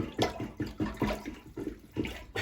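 An old, stiff plunger works water in a toilet, repeated wet sloshing gulps at a steady pumping rhythm, about eight strokes, close and moderately loud.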